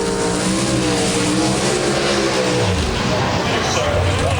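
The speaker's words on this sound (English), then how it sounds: "Pro Stock Cars, their final." Pro Stock drag racing cars at the 2008 NHRA Gatornationals in Gainesville roar loudly with revving engines throughout, heard under an announcer's steady talk over the crowd-level noise.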